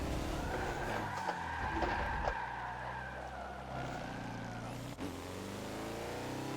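A 2014 Mazda Lola B12/80 prototype race car at VIR in Forza, its engine screaming high and revving through a shift, tires squealing faintly, steady and close with no speech.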